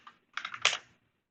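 A computer keyboard clicks in a quick burst of keystrokes and key combos, one soft tap followed by a close cluster of sharp presses, then silence.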